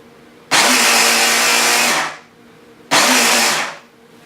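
A food processor mixing keto bread batter whirs loudly and close in two bursts. The first runs about a second and a half, and a shorter second burst follows after a brief pause. Each burst ends with the motor winding down.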